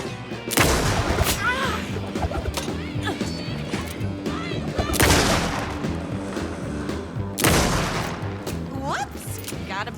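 Gunfire from Alan Wake 2 cracks out in several heavy, booming bursts over a dense, busy game soundscape with a voice mixed in.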